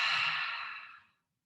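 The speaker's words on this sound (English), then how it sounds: "Take a deep inhale through your nose and exhale mouth" A single deep exhale out through the mouth during a hatha yoga session, a close, breathy sigh that fades out smoothly after about a second.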